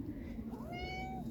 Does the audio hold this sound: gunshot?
no